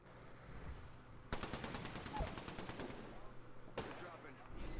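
Rapid video-game gunfire rattles from across the way, a fast automatic burst of about two seconds followed by another shorter burst, set against a busy game soundscape.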